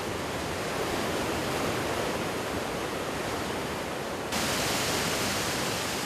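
Rapids of the Mekong River in Laos pour past in a dense, steady roar of rushing water, loud and unbroken, with a sudden jump in brightness partway through and no voices.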